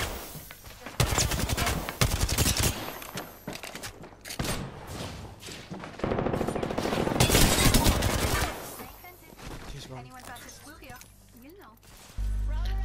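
Rapid automatic gunfire in the Apex Legends video game, loud bursts of shots in close, dense volleys with a few pauses, no talk over it.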